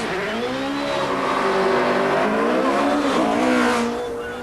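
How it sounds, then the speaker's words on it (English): Paul Edwards' 4-litre Pilbeam MP58 hill climb race car on a fast run, its engine screaming loud and close with rising and falling pitch as it accelerates through the gears, tyres hissing, before fading slightly at the end. "This run by Paul's 4-litre Pilbeam MP58 was the fastest ever seen"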